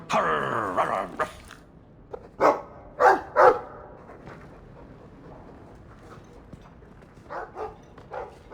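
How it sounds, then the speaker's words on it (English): Dog barking in the fantasy role-playing game Dragon Age II, a few short sharp barks mid-distance with pauses between, over a quiet ambient game background, fading to softer yips near the end. "Well, woof to you too."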